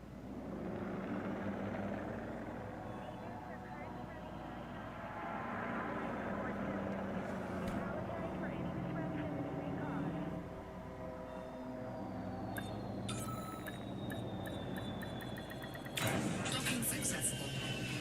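Spaceship landing and docking in Elite: Dangerous Horizons, a steady low engine rumble and hum with shifting tones, a sharp mechanical clatter near the end, and a synthetic ship voice speaking over it.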